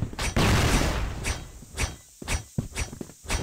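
A flashbang grenade goes off in the video game CrossFire X, a loud crackling burst that spreads into a hissing wash and is followed by several sharp, shorter bangs.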